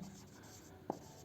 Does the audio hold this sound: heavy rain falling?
no